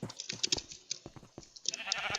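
In Minecraft, a few short bleats from a sheep mix with a quick run of clicky game sounds and crunchy footsteps, all fairly close and moderately loud.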